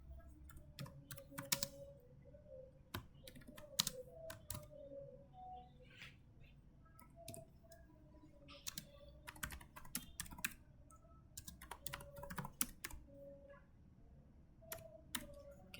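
Fingers type on a computer keyboard to enter program input, a steady uneven patter of soft close key clicks with brief pauses, over a low background hum.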